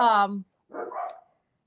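Dogs in a home give one clear, close bark, then a rougher, muffled yelp after a short pause.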